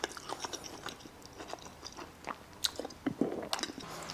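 Chewing on a bite of 270 gram Scotch fillet steak cooked in a 12-volt air fryer: close, quiet, irregular wet bites and crunches with soft clicks, alone without talk.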